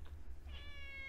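A cat in the London Detective Mysteria video game gives one drawn-out, tonal meow that rises and holds, heard clearly over a low steady background hum.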